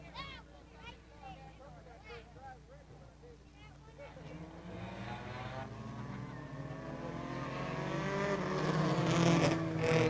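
Race cars in a four-lap heat race at Peoria Speedway on an Old Timers Day, engines droning and rising steadily from moderate to loud as the pack builds and closes in, with an announcer talking over it throughout.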